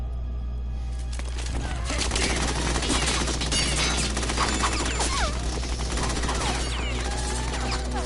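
Gunfire in the Metal Gear Solid 2 video game, a dense run of rapid shots over a steady low hum, with voices talking over parts of the burst.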